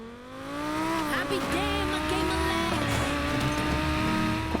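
Game car from Need for Speed Payback driving steadily, a sustained engine tone rising and falling through gear shifts with brief tire noise, loud and continuous, with a voice talking over it.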